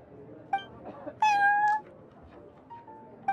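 A cat in the Genshin Impact video game, at the Cat's Tail tavern, gives a few short, soft meows, with one louder, longer meow in the middle against a quiet background.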